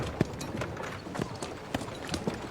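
Horse hooves clip-clopping at a walk in a Civil War film scene, a close, uneven series of hoofbeats on hard ground over a low murmur of background sound.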